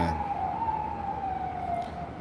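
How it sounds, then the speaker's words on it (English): A siren wails steadily with a slowly wavering pitch over a constant hum of street traffic, part of a stream of police cars, fire trucks and ambulances passing by. "3 cops don't went by, 2 fire trucks, 2 ambulance, all within the last few minutes"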